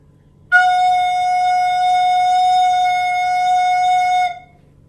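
A single sustained recorder note F, clear and steady, held for about four seconds before stopping, played alone.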